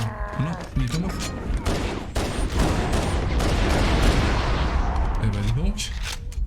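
Dense bursts of gunfire and explosions from Halo: Combat Evolved on Legendary difficulty, sustained rapid shots loud and continuous through the whole stretch, with brief electronic game sounds near the start and end.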